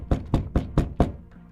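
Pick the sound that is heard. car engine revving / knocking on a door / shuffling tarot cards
knocking on a door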